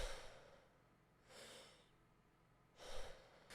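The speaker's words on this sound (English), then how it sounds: "take a really deep breath and then just let it go" A slow, deep breath drawn in and let out again, soft airy breathing in a quiet room with no talking, the exhale swelling then fading, followed by a second breath.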